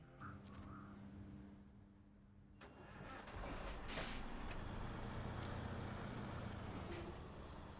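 A heavy truck in the SnowRunner video game pulls away from a garage, its engine rising from a low idle into a loud, steady rumble with a brief air-brake-like hiss partway through.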